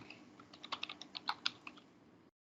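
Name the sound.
typing on a computer keyboard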